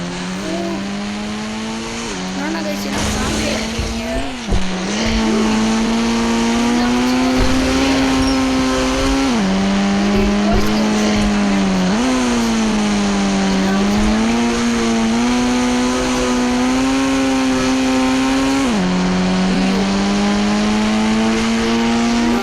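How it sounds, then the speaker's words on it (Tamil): A car engine in a video game's zombie mode drones loudly and steadily, its pitch rising and dipping through repeated revving as it drives, with brief tire squeals and no talk over it. "காரை எடுத்து விட்டு போக போகிறேன்."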